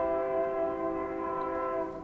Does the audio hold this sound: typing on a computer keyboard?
no